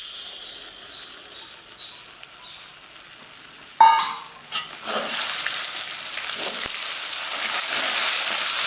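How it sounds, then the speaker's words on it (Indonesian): Melted butter poured into hot caramelized sugar sets off a sudden loud hiss that settles into a steady, bright sizzle, after quieter bubbling of the caramel before it. "Sudah gulanya mencair berubah menjadi karamel, kita memasukkan mentega tadi yang sudah dicairkan."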